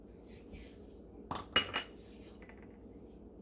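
Sour cream and grated Parmesan being folded into ingredients in a pot, heard as a couple of sharp utensil clinks and scrapes against the pot in the middle, close and over a low steady kitchen background.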